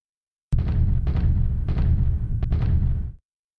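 Battleship bombardment in the War Plan Orange naval war game, a sustained roar of heavy booming gunfire with several distinct blasts layered over a rumbling low end, loud and continuous for about three seconds before cutting off.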